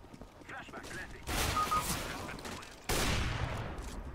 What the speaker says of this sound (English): he was shooting at the guy through like 5 walls then